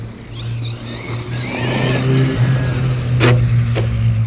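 A Traxxas E-Revo 2 RC car running on Turnigy 3S lipos, its electric motor whining and rising in pitch as it drives, with a couple of sharp knocks near the end.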